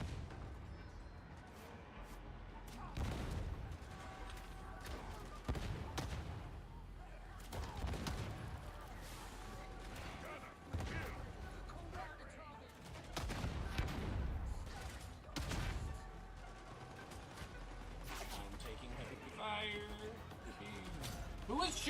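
Gunfire in Warhammer 40,000 Darktide: dense volleys of shots and bursts crash repeatedly over a busy, loud game mix, with a voice speaking over the action.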